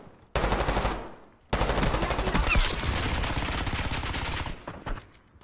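Sustained automatic gunfire from a picked-up gun in a video game: a brief burst, a short pause, then a long, loud, continuous stream of rapid shots that thins into a few scattered final rounds.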